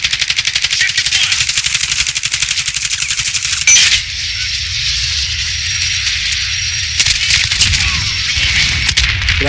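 Rapid automatic gunfire in Call of Duty rattles loud and close in a long sustained burst, then gives way to quieter scattered shots and game noise.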